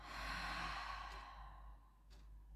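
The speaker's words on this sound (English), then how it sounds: "Exhale back down." A slow, steady exhale during a Pilates breathing exercise: a soft, breathy sigh lasting about two seconds, close to the microphone, fading out, followed by a brief second breath.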